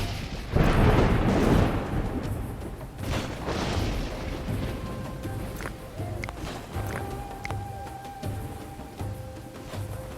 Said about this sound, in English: Have a storm approaching.